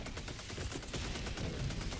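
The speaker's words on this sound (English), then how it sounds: "My god, machine gun sentry." Machine gun sentry firing in a video game, a steady dense burst of rapid automatic shots that fills the whole stretch at close, loud range, with no talking.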